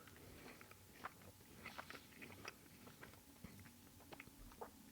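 Crunchy chewing of a caramel chocolate cookie with chocolate cream, about the size of a turtle candy, heard close up as a series of soft irregular crunches and bites with no talk.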